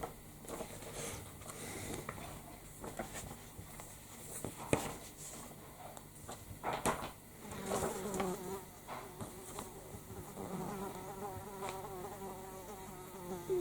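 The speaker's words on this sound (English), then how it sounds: "Bloody fly buzzing around now." Indoors, a housefly buzzes about the room, its drone swelling and fading as it passes near, broken by a few soft knocks and rustles, with no one talking.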